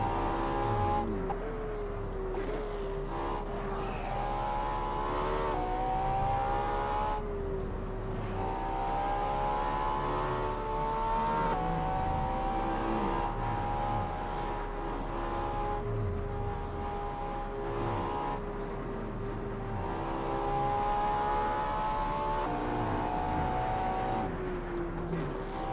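A car engine drones continuously in the Assetto Corsa VR racing game on the Shuto highway, its pitch rising and falling through repeated gear shifts while weaving through traffic, steady and fairly loud with no talking.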